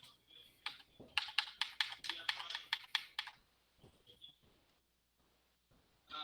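Rapid bursts of close computer keyboard typing, a dense run of sharp clacking keystrokes followed by a few scattered taps and then quiet, loud and clear with no talking over it.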